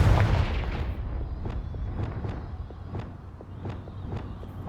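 Confringo explosive spell bursts in Hogwarts Legacy: a heavy boom at the start followed by a series of sharp cracking impacts roughly every half second over low rumbling combat noise.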